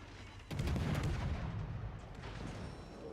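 Warship gun salvo in the naval game World of Warships: Legends, a heavy booming volley that rolls out and decays over a few seconds with no talking.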